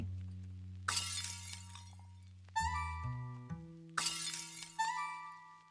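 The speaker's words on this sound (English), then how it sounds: "Smashing pots is really fun." Pots smash in a Zelda-inspired video game built in Godot, with four crisp ceramic shattering crashes, some followed by ringing chime-like tones and a sustained low hum, clean and without talk.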